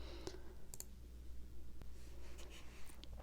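A handful of sharp, quiet mouse clicks spaced unevenly over a faint background hum while goals are selected in the Gospel Living app.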